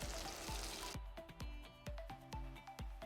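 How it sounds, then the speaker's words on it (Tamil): Turkey berries (sundakkai) sizzling as they saute in a pan for kulambu, a steady crackling fry with a regular series of low thumping knocks from stirring running through it. "ஸோ இப்போ சுண்டக்காய் நல்லா வதங்கி ஓரளவுக்கு நல்லா சுருங்கி வருது."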